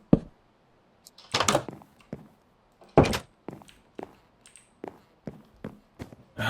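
A birch door placed in Minecraft gives a run of sharp wooden thunks and clacks, a dozen or so close knocks at uneven intervals with brief quiet gaps between.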